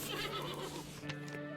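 A horse in the video game Above Snakes gives a brief whinny over steady game ambience, the neigh rising briefly near the end of a short moment.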